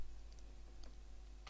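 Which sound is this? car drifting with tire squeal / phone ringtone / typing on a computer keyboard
typing on a computer keyboard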